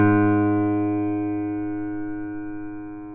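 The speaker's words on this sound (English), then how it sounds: "you might not have known that that was an A flat" A single A-flat note rings out alone as a clean, steady harmonic tone that fades slowly over a few seconds.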